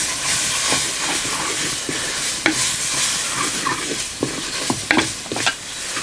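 Mint and coriander leaves fry and sizzle in a hot pan with spices, a steady bright hiss broken by scraping stir strokes.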